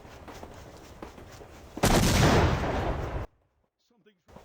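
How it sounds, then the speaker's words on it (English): In the PC game Nocturne, an explosion sabotages an engine: a sudden loud, rumbling blast bursts in midway, holds for about a second and a half, then cuts off sharply into near silence, after a stretch of low background noise. "The engine is sabotaged by an explosion"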